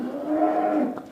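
An adult cow on a French dairy farm gives one sustained, full-throated moo, close and clear, with no voices over it.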